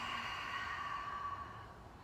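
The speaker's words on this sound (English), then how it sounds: "Open mouth, audible exhale." A single long, open-mouthed exhale, breathy and steady, fading slightly at the end during a relaxed hip-mobility workout.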